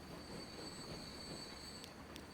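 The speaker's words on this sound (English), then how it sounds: "Is that passenger train trying to get in?" A passenger train arrives in the rail-management game Transport Fever 2, its wheels squealing with a steady high metallic whine over a continuous low rumble, close and unbroken.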